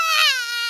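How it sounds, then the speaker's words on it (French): A cartoon baby named Alexandre cries in a single short, loud, wavering wail that rises and then slowly falls, heard alone. "Les vrais bébés font beaucoup de bruit."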